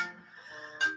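A mobile phone ringtone plays as a short, moderately loud electronic tone with sustained pitches and a brighter burst toward the end, heard alone.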